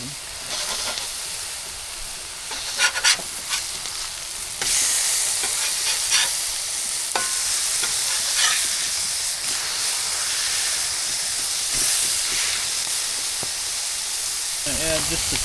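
Onion and bacon sizzle and hiss steadily in a hot pan, with scraping and clacking as the mixture is stirred, over a continuous bed of frying noise.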